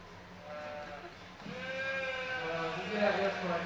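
Sheep bleat at a livestock stock show, several wavering calls in a noisy arena, fairly close and carrying over the crowd murmur, with people talking throughout.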